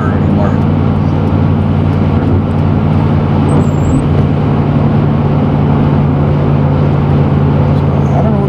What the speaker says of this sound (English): Best way to warm your rig up is to drive it.